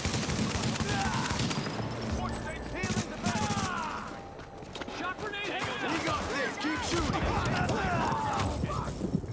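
Dense, rapid bursts of gunfire in a video game shooter, loud and continuous with scattered shots and in-game effects, while players talk and shout over the shooting.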